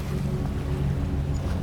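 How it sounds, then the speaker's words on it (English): Low, steady engine hum of a ferry pulling away from a dock, continuous and even, with a soft wash of water and wind around it and no voices. "The engines return to their low hum. Soft, even, like slow breathing. The ferry eases away from the dock"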